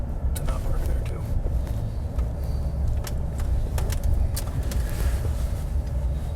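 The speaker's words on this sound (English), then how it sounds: "you may have oncoming traffic as we have right now" Oncoming cars rolling slowly through a school parking lot near a turnaround and fire lane, a low continuous engine rumble with light clicks and rattles, while a person speaks over it.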